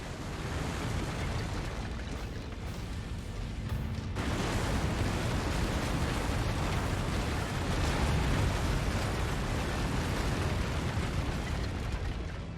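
An enemy mech blowing up in the MechWarrior 5: Mercenaries video game, with a loud, sustained explosive roar and rumble that surges after a few seconds and rolls on like heavy surf.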